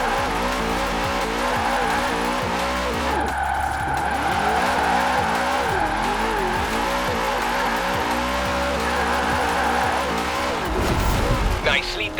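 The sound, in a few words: car drifting in video game Forza Horizon 4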